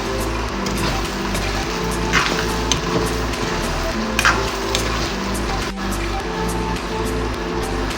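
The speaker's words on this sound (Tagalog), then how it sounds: "Haluin natin." Pork giniling picadillo being stirred in a cooking pan: a steady sizzle runs throughout, with scattered clinks and scrapes of a utensil against the metal, close and moderately loud.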